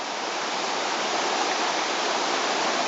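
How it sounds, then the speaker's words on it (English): Continuous broadband rush of river rapids beside a Crown land campsite, a steady loud roar of churning water with no breaks or voices. "The sound of rapids over the course of a day and night will just drive you nuts."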